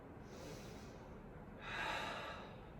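Slow, deep breaths during a gentle yoga flow: a soft, airy inhale followed by a fuller, louder exhale that swells and fades, close and quiet, with no talking.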